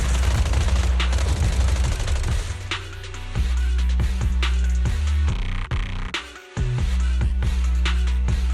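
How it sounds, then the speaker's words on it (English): Suppressive marching gunfire in Zenless Zone Zero comes as loud, rapid bursts of shots over a low rumbling bed, broken by a brief gap in the middle before firing resumes. "Gunfire? This pattern. Suppressive marching fire."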